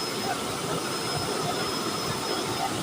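A used-oil cooking burner turned up to full gives a steady, loud roaring rush of flame, broad and unbroken throughout.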